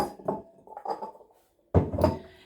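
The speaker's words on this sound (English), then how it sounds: "And then we can get rid of our bowls." Mixing bowls from a biscuit bake being cleared off a kitchen work surface, giving a few close knocks and scrapes of bowls and utensils, with a short quiet gap before a louder clatter.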